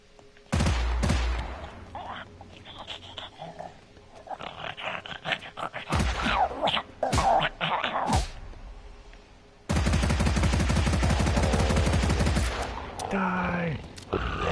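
Rapid bursts of gunfire in a first-person shooter built in Dreams, loud and dense, with sharp shots early, a long sustained volley near the end, and growling creature noises mixed in.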